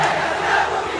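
A large crowd shouting a slogan in unison, a dense roar of many voices sustained throughout, close and loud.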